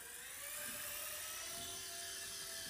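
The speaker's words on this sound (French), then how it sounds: "Bon, on va essayer de décoller." A small drone taking off in beginner low mode gives out a steady high-pitched whine of spinning propellers, close and constant, with no talking over it.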